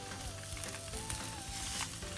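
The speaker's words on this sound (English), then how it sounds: "now we are going to cook the sausages in a fried pan" Sausages sizzle in a frying pan for an English breakfast, a soft, steady crackle with a low hum beneath and occasional small pops, heard alone without speech.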